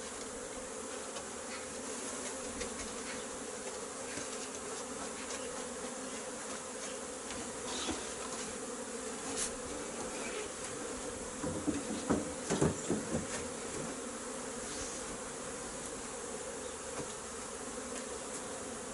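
Honeybees buzzing at an open beehive during a spring hive inspection, a dense continuous hum close by with occasional louder passes and a few light knocks partway through.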